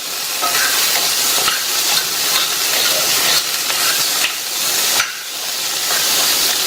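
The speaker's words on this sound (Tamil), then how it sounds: "நல்லா கலந்து விட்டுருங்க." Boiled chickpeas are stirred in a hot pan, a loud continuous sizzle broken by repeated scraping strokes at a steady rhythm.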